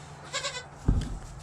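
Goats on a homestead bleat close by, a few overlapping calls early on followed by one louder, deeper bleat near the end, with a quiet background between them.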